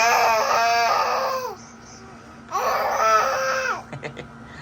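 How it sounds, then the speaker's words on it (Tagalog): Children play somewhere nearby, heard as two long, loud bursts of high-pitched crying or wailing voices with a quiet gap between them, then a few brief, fainter cries at the end. "Ayun po, may mga batang naglalaro."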